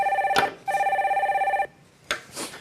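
A telephone rings on a Korean TV call-in show as the next caller is put through, with one short burst and then a longer trilling ring, loud and close, followed by faint clicks and handling noise.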